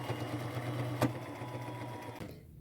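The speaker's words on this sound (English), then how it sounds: "I will sew around the edges of both pieces of fabric, staying as close to the edge as I can get." A sewing machine runs a steady straight stitch around the edges of two layered fabric pieces for an upcycled boho crossbody bag, with a continuous mechanical hum near the microphone that cuts off at the end.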